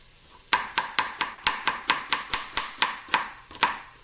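A knife chops an onion on a cutting board in a home kitchen, about fourteen crisp, close knocks in an uneven but steady rhythm, with no talking.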